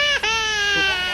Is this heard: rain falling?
no